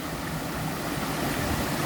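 A fast, gushing stream current rushing over rocks, a dense, steady broadband roar of water that stays constant and close throughout with no voices.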